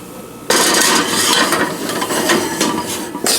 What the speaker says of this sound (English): This I'm going to put down here in the oven so I don't